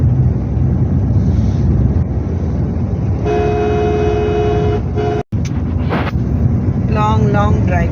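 A car travelling along a long road, with steady engine and road rumble filling the scene, a tonal horn-like note midway, a brief dropout, and a voice speaking near the end.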